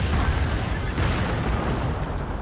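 Artillery shells burst in the video game Total War: Shogun 2 as a continuous rolling boom, a loud, dense rumble of explosions with a sharper crack around the middle.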